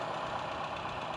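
A Toyota Kijang's carbureted engine runs hard with the carburetor air intake covered, a dense steady roar with a rough knocking texture and no pauses.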